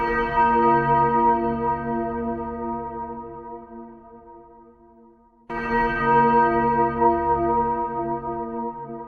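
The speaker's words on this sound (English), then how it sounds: "Like a Christmassy type of bell, but very not jolly. It's definitely an eerie bell." An eerie Christmas bell from the Incredibox Santa mod rings in two long, resonant tones, the first decaying slowly before a second identical strike sounds out clearly and alone.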